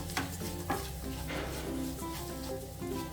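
Masala roti pieces being stirred in a pan, a steady scraping and turning with a light sizzle underneath, close and continuous.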